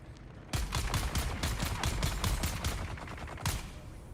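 Minigun fire in the video game Dune Awakening: a loud, continuous stream of rapid gunshots starts abruptly after a brief quiet moment and hammers on steadily to the end.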